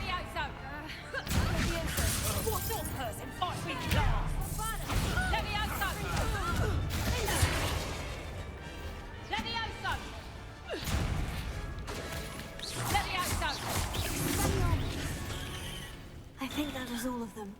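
Glass smashes and crashes amid spell-casting combat in the video game Hogwarts Legacy, with dense, loud battle effects and a character's voice talking over the action throughout.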